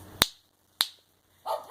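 Two crisp finger snaps aimed at a pet dog indoors, spaced about half a second apart and fairly close, followed by a short soft rustle.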